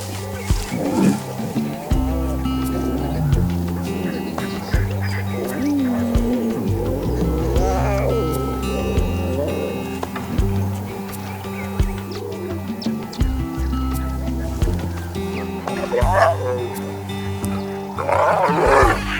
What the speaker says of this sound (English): The lionesses can also roar, but in this case, it's to consolidate the pride.